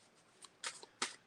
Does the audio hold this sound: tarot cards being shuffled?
yes